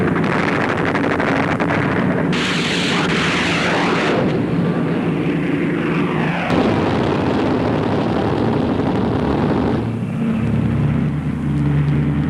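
Coastal Command strike aircraft attacking ships off the Norwegian coast, a loud continuous engine roar mixed with wind-like rushing noise and bursts, rising and falling as planes pass close overhead.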